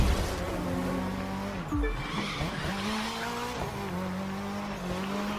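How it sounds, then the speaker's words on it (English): Race car in The Crew 2 power-sliding through a hairpin, engine droning steadily with loud tire squeal and skidding throughout, a brief dip and surge midway, no talking. "Do a little bit more power slide drift."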